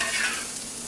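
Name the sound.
onions frying and being stirred in pot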